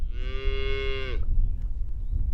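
A speckled black-and-white Texas Longhorn cow with big curly horns lets out one loud, close moo lasting about a second, followed by quieter outdoor background noise.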